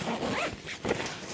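A zipper on a travel compression cube is tugged in a couple of close, scratchy strokes, with a brief pause before the final pull.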